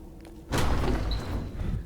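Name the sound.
doors thudding in video game Uru: To D'ni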